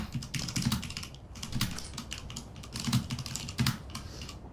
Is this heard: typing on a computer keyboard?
yes